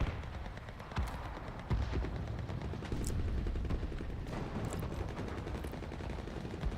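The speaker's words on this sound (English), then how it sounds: "Sure, I got an AA gun." An AA gun fires in Enlisted, with sharp bursts and booming shots cracking through a busy, distant-sounding battle din.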